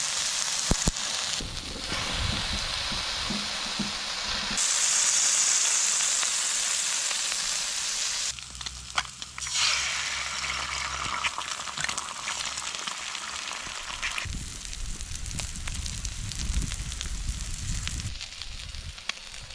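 Egg and onion sizzling in a frying pan for a breakfast burger, a steady close crackle and hiss that swells and shifts in texture as the food is moved, with no talking.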